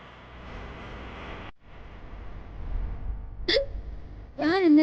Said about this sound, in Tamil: தூக்கத்துல விக்கல் வருது